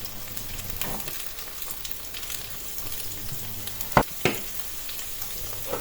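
Meatballs and a piece of onion fry in a pan with a continuous close sizzle, broken by a couple of sharp clinks or stirring knocks near the end.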